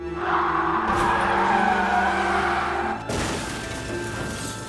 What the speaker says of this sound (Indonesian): Dua mobil ini saling bertabrakan dan terjadilah kecelakaan maut.